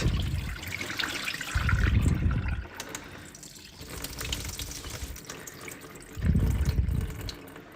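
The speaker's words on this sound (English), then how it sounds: "Let me just get all this water out." Water is poured from a cooking pot into a kitchen sink in uneven splashing bursts, loud and close, with gurgling and trickling between the heavier pours.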